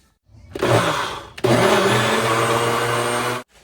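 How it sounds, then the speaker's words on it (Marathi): A kitchen mixer grinder grinds a roasted spice mix with a loud, close whirring roar in two bursts, a short one and then a longer steady run that cuts off abruptly. "चला, हे आता थंड झाले, आपण हे वाटून घेऊया."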